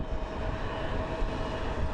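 Steady loud roar of a Southwest Airlines passenger jet, manufactured in 2007, at Phoenix Sky Harbor International Airport, a continuous engine drone with no talking.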